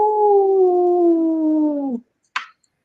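A human voice imitates a coyote howl, one long sustained falling tone lasting about two seconds, then a brief sharp tap after a short silence.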